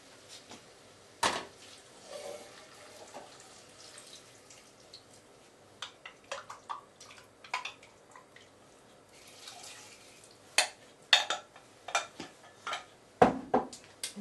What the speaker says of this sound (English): And just simply add the stock.